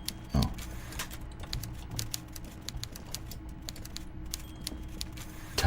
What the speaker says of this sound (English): Typing away, isn't he?